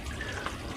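Water trickling and dripping steadily from a hole in an irrigation hose in a winter polytunnel, a soft continuous wet hiss heard up close.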